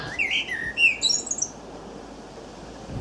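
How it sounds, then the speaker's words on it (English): A blackbird singing at the close of a Beatles song recording: a few bright, quick whistled phrases and chirps in the first second and a half, then quiet background. "we put a blackbird on it. So there's a blackbird singing at the very end."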